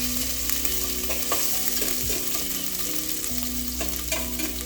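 Ginger sizzles steadily in hot cooking oil in a pan, a close, continuous frying crackle with occasional stirring scrapes and no talk, during preparation of a beef stew.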